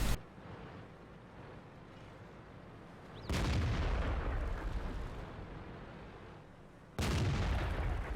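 Tank cannons fire in a World of Tanks match: two heavy, booming shots a few seconds apart, each followed by a long rumbling decay over a low steady game background, with no talking.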